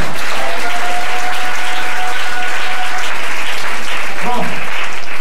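A church congregation claps loudly and steadily, with a few sustained cheering tones and a short shout near the end rising over the dense applause.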